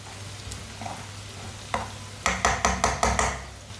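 Masala spices sizzle quietly in a pan for okra, then a spoon scrapes and stirs them in a quick run of about six loud strokes, close up.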